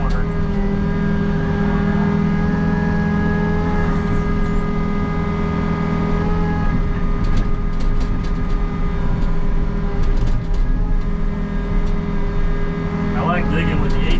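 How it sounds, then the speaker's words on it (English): An excavator with an 18-inch bucket digs a frost footing for a walkout basement, its engine droning loud and steady throughout, with scraping and clanks toward the end and a voice talking over it. "Digging with the 18-inch bucket is so much better than the 12."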